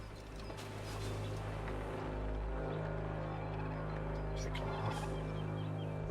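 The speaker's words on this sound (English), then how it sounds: "it's a turkey and a chicken" Many turkeys gobble together in Assassin's Creed 3, a dense, continuous chorus of fowl calls over a steady low engine-like hum, with no voices.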